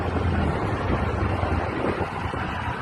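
Riding in a Keke Napep auto-rickshaw in Nigeria brings a constant loud roar of rushing wind and road noise that buffets the microphone without pause, with no one speaking.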